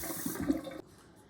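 Tap water runs briefly over a towel being dampened for covering garlic bread dough, a close, short rush of water that cuts off sharply after under a second.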